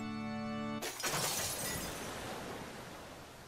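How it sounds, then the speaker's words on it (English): In a Fate/Stay Night visual novel sound effect, a sudden rushing gush of water bursts in after a steady tone cuts off, loud at first and then slowly fading into a broad, washing hiss. "Oh, the water's flowing out."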